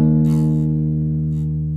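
An acoustic or electric guitar's low E string, tuned too low, rings out as one sustained plucked note with a steady flat pitch and rich harmonics, loud and close, fading slightly over about two seconds.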